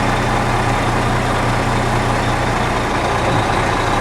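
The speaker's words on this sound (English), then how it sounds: "I'm going to put it in a low gear, and I'm going to slightly tug against the tractor to make sure it holds." A semi truck tractor in low gear strains against its trailer, producing a loud, constant diesel rumble with steady low engine drone throughout and no breaks.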